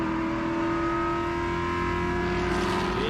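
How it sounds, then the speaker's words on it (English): Race cars launching together at the green flag of a GridLife Touring Cup race at the National Park of Speed in South Carolina, a sustained loud pack of engines revving and accelerating with rising whine. "Green flag, and we're racing at the National Park of Speed, and a good launch by the 330 and the 41"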